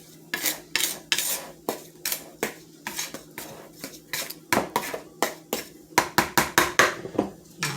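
Cinnamon raisin biscuit ingredients being mixed in a bowl, with a steady run of sharp scraping clinks of a utensil against the bowl, quick and rhythmic, close and alone with no talk.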